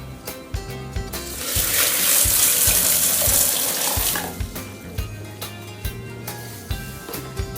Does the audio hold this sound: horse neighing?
no